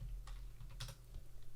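Clicky keystrokes on a computer keyboard, a few short scattered taps while nodes are typed into Renderman rendering software, close and fairly quiet over a low steady hum, with no voices.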